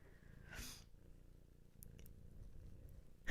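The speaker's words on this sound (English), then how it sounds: "She's a happy kitty cat." A pet cat purrs close up in a steady low rumbling rhythm with no break, broken once near the start by a short rustling burst.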